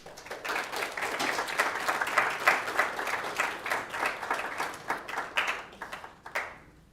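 A high school audience applauds to welcome a United States Marine Corps sergeant to the podium, steady dense clapping that swells and fades over several seconds before tapering off.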